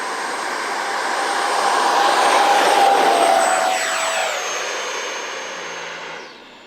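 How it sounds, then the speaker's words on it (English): An FMS Rafale canard-delta RC model jet flying by, a loud rising whoosh and whine that swells toward the middle, pitch sliding downward as it passes, then fading steadily into the distance with no talk. "The FMS Rafale, holy smokes, it is without a doubt my favorite canarded jet right now."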